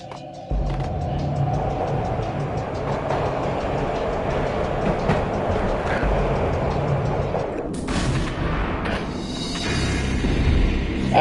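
Rumbling train from the Max Payne video game, a steady rolling rush with clattering texture running throughout, building slightly louder toward the end, with no talk over it.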